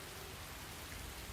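Steady rain from a Crisis Core Remastered game scene falls as an even, dense hiss without breaks, quiet and continuous, with no voices.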